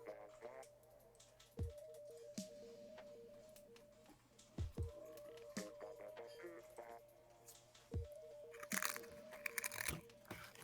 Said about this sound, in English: Who's munching crisps?